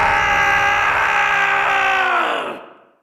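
A loud, sustained scream from an angel character in the otome video game Seduce Me 2, holding steady for over two seconds before fading away, heard alone.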